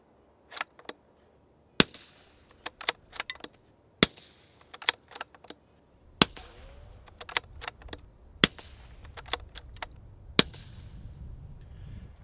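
Suppressed subsonic .22 Long Rifle shots through a Kovix titanium suppressor fire in an irregular string of sharp, dry cracks. Some land in quick pairs, and a low outdoor rumble runs underneath in the later part.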